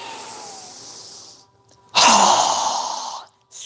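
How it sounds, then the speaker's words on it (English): During a yoga session, a steady inhale through the nose fades out, then after a brief pause a loud, forceful exhale rushes out through the mouth close to the mic, followed by a short catch of breath. "we're going to exhale with a strong breath through our mouth as we quickly lower our arms and hands down"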